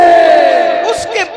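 A crowd at a religious gathering loudly chants "Allahu Akbar" in unison after a slogan call, a sustained roar of many voices that fades slightly toward the end.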